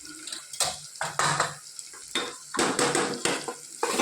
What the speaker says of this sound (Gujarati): સરસ બધું મિક્સ કરી લઈએ.